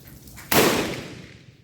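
A single sharp rifle shot from a Berthier model 1916 firing cast-bullet reloads, loud and close, with a broad blast that decays into a long outdoor tail; no talking.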